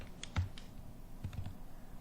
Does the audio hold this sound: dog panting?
no